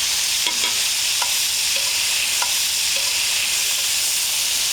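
Pieces of lobster are sautéed and stirred in a pot on a beach, giving a loud, continuous sizzle broken by a few bright metallic clinks of the spoon against the pot.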